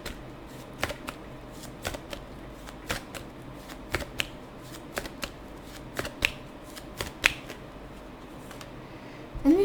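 Tarot cards are shuffled by hand in a quiet room, a series of crisp riffling snaps and soft slides repeating at an irregular pace, close and fairly faint.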